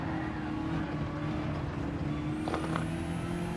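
A BMW race car in the Gran Turismo 7 racing game holds a sustained engine drone at steady revs, with a brief higher whine near the end and no speech.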